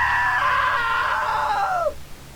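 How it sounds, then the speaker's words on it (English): A long, loud, high-pitched scream in the video game What Remains of Edith Finch, held steady for nearly two seconds before sliding down and cutting off abruptly. "Now that was a great scream."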